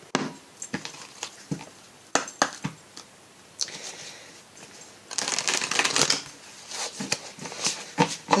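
An oracle card deck, the Murmure de guérison, being shuffled by hand, with bursts of riffling and soft slapping taps at an irregular rhythm, close and fairly quiet, without any talking.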